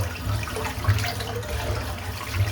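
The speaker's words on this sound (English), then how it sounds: "Just empty the sink out" Water drains from an emptied bathroom sink with a gurgling, sloshing rush, fairly close and steady, with small pulsing swells and no talk.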